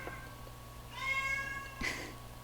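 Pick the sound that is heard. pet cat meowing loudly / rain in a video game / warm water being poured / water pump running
pet cat meowing loudly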